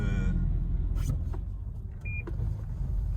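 Lane departure warning beep inside a Toyota Crown Athlete with a 3.5 V6, a single short electronic tone over steady road and cabin noise.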